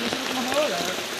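Steady rain falls as a dense, even hiss that fills the whole moment, with a voice briefly speaking over it.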